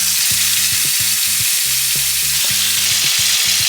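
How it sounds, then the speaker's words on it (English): Food fries in hot olive oil in a pan, giving a dense, steady sizzle close by with small bursts of crackle and faint stirring knocks, and no talking. "Once you can see the heat coming through, I straight away put it on and it should fry"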